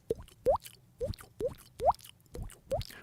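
Someone imitates water dripping with the mouth, making about seven separate plopping drip sounds at an uneven pace, close and fairly quiet, with no talking.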